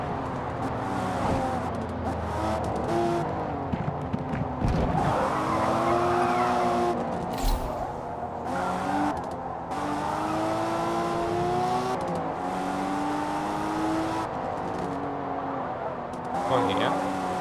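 Race cars in Forza Motorsport roar through a Modern Tour Series event with rising and falling engine revs, shifting harmonics and bursts of tire skidding, loud and continuous, with a voice talking over parts of it.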